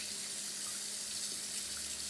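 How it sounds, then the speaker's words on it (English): Tap water runs steadily into a sink while hands are washed in a home kitchen, a constant close hiss with no talk. "once you've done that, and you've washed your hands"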